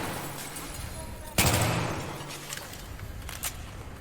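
Gunfire in Battlefield 3 on co-op hard difficulty as the player shoots out bright lights: one loud burst after a low rumbling stretch, then a trailing decay and a brief later shot, with faint voice underneath.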